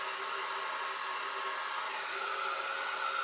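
A heat tool blows a steady hissing whoosh while drying metallic paint on a craft background, a constant airy drone from start to end with no talking.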